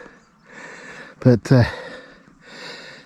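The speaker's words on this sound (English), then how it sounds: "you can probably tell by my heavy breathing" Heavy breathing while hiking uphill on a packed-stone trail from Hawes to Tan Hill Inn: soft, rhythmic breaths close to the mic, with a brief spoken word breaking in midway.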